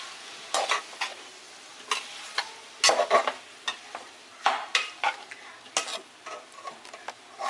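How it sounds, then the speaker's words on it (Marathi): Vegetables and chowmein noodles are stir-fried in a pan, with a soft background sizzle broken by repeated sharp scraping and tossing strokes of a spatula at an uneven rhythm. "चांगल्या पद्धतीने हे सगळ्या भाज्या चाऊमिन मिक्स करून घ्यायचं आहे"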